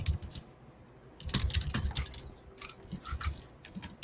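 Close-miked computer keyboard typing in short, irregular bursts of crisp clicks and key taps, fairly loud against a quiet room, with a few brief pauses between runs of keystrokes.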